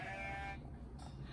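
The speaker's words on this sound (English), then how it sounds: "So out of his window he started to bleat to the people who buzzed below in the street." A goat gives a short, wavering bleat, moderately close. It fades into a faint background hiss.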